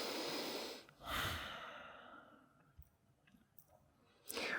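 Close, audible breaths during a breathing exercise: a long exhale, then an inhale, quiet small clicks and shuffles, and another breath at the end, with no talk.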